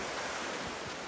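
Ocean surf at a Hilton Head beach, a continuous broad rushing wash of waves with wind buffeting the microphone, no distinct individual breakers.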